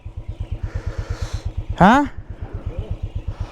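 A Royal Enfield Bullet motorcycle idles in falling snow in Kashmir, its single-cylinder engine thumping in a steady, evenly spaced beat up close, with a brief spoken word over it.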